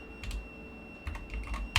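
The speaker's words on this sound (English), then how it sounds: "I can't spell anything on this keyboard, you know. My fingers touch all the other buttons." Someone types on a computer keyboard with scattered, uneven keystrokes, quiet and close, with no talking.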